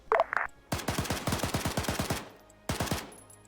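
Intermittent automatic gunfire in the video game Arma 3: a long run of rapid, close shots, a short pause, then a second tight burst. No voices over it.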